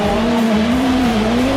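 Camaro and Firebird race cars accelerating off the start of a lap, a loud sustained engine drone with rising and falling pitch and a steady tire squeal running throughout, close and continuous, no voices.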